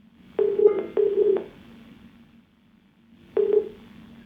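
Telephone dialing tones placing a call-in line on a Hindi TV advice show: a few short bursts of tones in two quick clusters, then a pause and one more burst, clear and alone with no talk.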